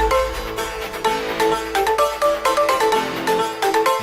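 A phone ringtone plays as a call is placed, a bright repeating melodic tone pattern sounding steadily and alone with no voices over it.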